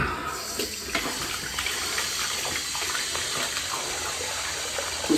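Tap water runs steadily while dyed hair is rinsed at a sink, a continuous splashing gush with small irregular spatters and no voices.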